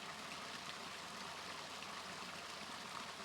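Water spills and cascades down a series of three rock-lined pools along a creek, a steady, continuous rushing splash with no voices over it.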